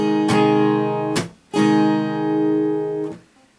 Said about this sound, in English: that sound is because the strings are bottoming out, hitting the frets